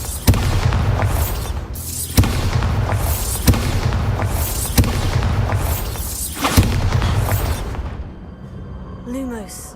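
Repeated Bombarda spell blasts in the video game Hogwarts Legacy, five heavy booming explosions at roughly even intervals. Each boom has a rumbling tail and is followed by a brief quieter stretch.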